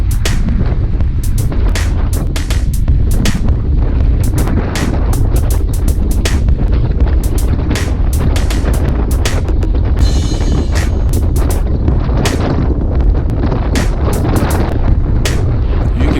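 Strong headwind on a group road ride buffets the microphone in loud, continuous, rumbling gusts with sharp crackling bursts throughout, close and harsh with no talking.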